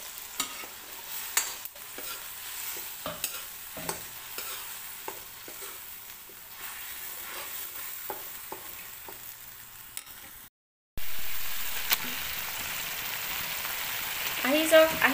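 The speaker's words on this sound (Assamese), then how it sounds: "এতিয়া মই আদা ৰচুন পেষ্টটো দি দিছোঁ ভাল ধৰণে মই লৰাই ল'ম" Ginger garlic paste sizzles in hot oil while a utensil scrapes and stirs it in the pan with repeated clicks, the frying growing louder after a brief cut, with a voice speaking at times.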